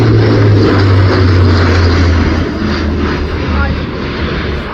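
A Luftwaffe Airbus A400M flies at an airshow, its propeller engines giving a loud, steady roar that fades slowly as it passes.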